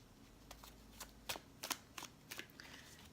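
Tarot cards shuffled in a quiet room, a series of soft papery riffles and flicks coming in irregular bursts, close and gentle against light background hiss.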